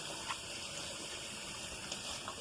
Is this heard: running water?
yes